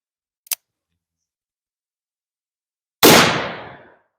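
A single sharp gunshot from a handgun with a 5-inch barrel, a loud crack followed by a short decaying echo, preceded by a faint mechanical click.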